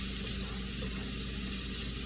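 Diced sausages sizzling in a pan with zucchini, a steady, even frying hiss with no pauses, fairly close and alone.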